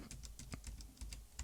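Keys on a Teletype module's keyboard are tapped repeatedly, the open and close square bracket keys, about a dozen light, close clicks in an irregular rhythm with no one speaking.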